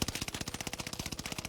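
Cooper Carbine automatic fire in Call of Duty Warzone, a steady rapid burst of sharp, evenly spaced shots at close range, unbroken for the whole stretch with no talking.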